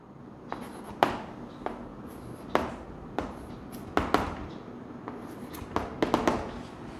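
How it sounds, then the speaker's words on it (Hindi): A teacher writing a number series on a classroom board, sharp irregular taps and clicks of chalk strokes with brief scratchy scrapes between them, close and clear with no talk. "एक मैं नीचे लिख रहा हूं इस तरीके से"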